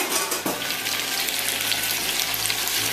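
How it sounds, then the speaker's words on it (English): Cooked linguine tipped into a hot pan of bacon mixture for carbonara, a steady loud hissing sizzle with a soft thump near the start, continuing evenly throughout. "let us add our pasta directly to our bacon mixture"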